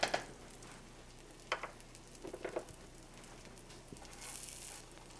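Crab cakes fry in butter in a pan, a soft, faint sizzle with scattered light pops and crackles, no voices present.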